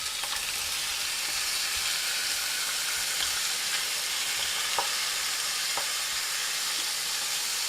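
Cuttlefish sizzling steadily in a hot pan with garlic over very high heat, a continuous broadband frying hiss with a few sharp pops and crackles, close and fairly loud throughout with no talking.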